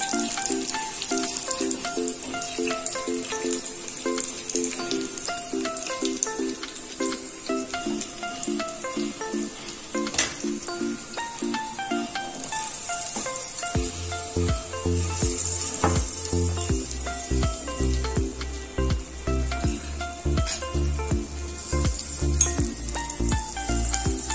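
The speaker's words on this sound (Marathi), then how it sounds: "आता आपण यात भाजीमध्ये वरून ऍड करायचा हा तडका." Steady oil sizzling hisses throughout as a garlic tadka tempering fries for spinach, heard beneath continuous background music.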